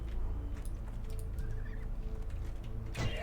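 A bird creature in World of Warcraft gives a honking, goose-like call over a steady low game soundscape, with a louder squawk near the end.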